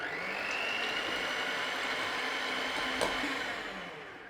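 An electric mixer whirs steadily as egg whites and sugar are beaten toward stiff peaks for traditional Grantham gingerbread, a continuous close whine with a single small knock near the end before it trails off.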